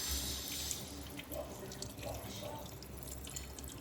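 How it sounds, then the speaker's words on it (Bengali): Tap water runs and splashes as a half-dried face pack is rinsed off the face, with steady flow, soft dribbles and a few brief splashy hand movements, close and fairly quiet. "এই হাফ শুকানো অবস্থায় এবার প্যাকটাকে ধোবো"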